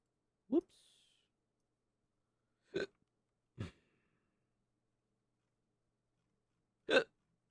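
Four sharp, isolated hiccups spaced irregularly over several seconds, close and fairly loud against near silence.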